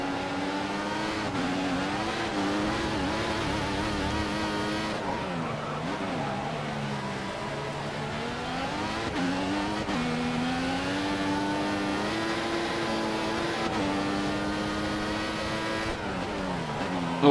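F1 race car engines from the F1 2014 game at the Brazilian Grand Prix scream and rise and fall steadily as gears shift, loud and continuous throughout with constant harmonic whine.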